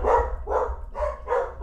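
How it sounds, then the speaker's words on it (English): Several house dogs bark excitedly in repeated bursts at a steady rhythm, fairly close, over a low background hum. "my wife just got home and all the dogs are going crazy"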